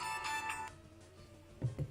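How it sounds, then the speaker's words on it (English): A phone ringtone for an incoming call chimes in a bright tonal burst for about the first 0.7 seconds, then fades, with a couple of low thumps near the end. "Oh, I'm getting a phone call."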